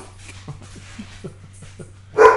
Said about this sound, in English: Little intermission with the dogs, Bertie.